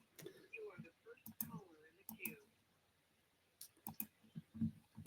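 Soft, close computer mouse clicks in call queue software come singly and in small clusters, interspersed with quiet, breathy speech.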